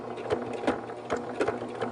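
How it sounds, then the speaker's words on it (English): A sewing machine box-stitching a strap onto the hem of a reusable bag, its needle driving in a steady rhythmic chatter of quick repeated thumps, close and clear with no talk. "we're going to box stitch this strap on at 1/4 inch away from the edge of the hem of the bag"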